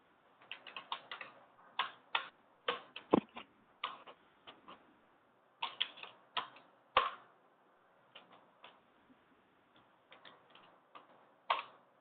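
Quick, light taps of someone typing a message on a phone come in uneven bursts and pauses, faint and close, with no voices.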